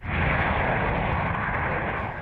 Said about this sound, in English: The only plane that can carry the Bunker Buster, the B-2 Spirit stealth bomber